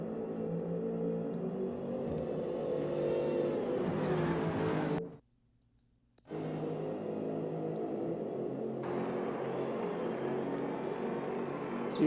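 A race car in a racing video game, the Kyalami nine-hour race, passes with a steady engine drone that drops out to near silence for about a second, then returns and holds steady.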